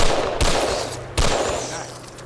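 Two sharp, loud gunshots ring out in Fallout 4, each followed by a decaying echo tail, with the second blast slightly louder.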